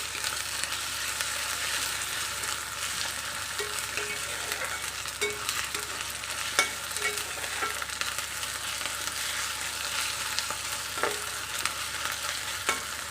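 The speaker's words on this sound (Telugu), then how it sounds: "ఇది కొంచెం పచ్చి వాసన పోయేటట్టు కొద్దిగా ఫ్రై చేసుకోవాలి" Egg curry masala fries in a pan with a steady, soft sizzle, broken by occasional scrapes and taps of a stirring spoon, and no voices.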